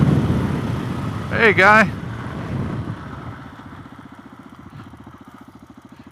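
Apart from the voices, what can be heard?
Suzuki DRZ470S motorcycle engine idling after letting off the throttle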